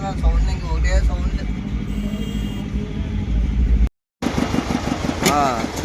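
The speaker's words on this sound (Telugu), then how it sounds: "మరి కొద్దిసేపట్లో జనరేటర్ అయితే ఆపుతారు." A generator drones steadily at a DJ sound event, a loud, constant low rumble close by, with a voice talking over it and a brief dropout partway through.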